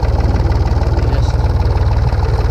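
A vehicle engine idles with a steady low throbbing pulse while being shifted into third gear during farm chores, loud and continuous throughout, with no voices.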